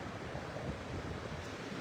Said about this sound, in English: You can just see a little bit of a wash from the tide.